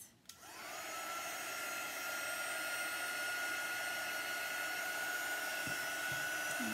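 A hair dryer blows steadily to dry fresh paint on a vintage truck, a loud continuous whooshing drone with a rising whine that settles into a constant tone, close by and alone.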